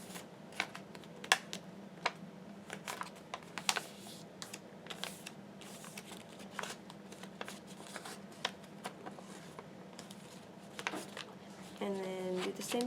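Origami paper being folded up close for a simple paper craft: a steady run of crisp, irregular crinkles, taps and soft rustles over a quiet room tone, with a brief voice rising near the end.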